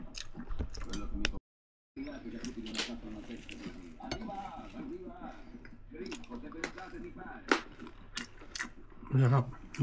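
Chewing and faint utensil clinks while someone tastes home-cooked tinutungang manok chicken, soft wet mouth sounds close to the microphone with small intermittent taps and a brief voice.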